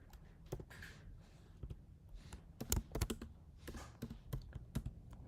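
Typing on a computer keyboard, irregular clusters of soft, close key clicks and taps at a quiet level, with no talking.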